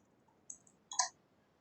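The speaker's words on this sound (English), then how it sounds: "I'm just simply typing here" Keyboard keys clicking in two short clusters, a brief pair of taps followed by a louder burst of several quick keystrokes, close and fairly faint in a quiet room.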